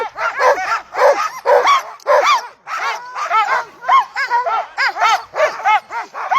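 Alaskan husky sled dogs barking and yipping at a race start near the Knik Bar, Settler's Bay, a dense overlapping chorus of many excited dogs, loud and close, continuous throughout with rapid repeated barks.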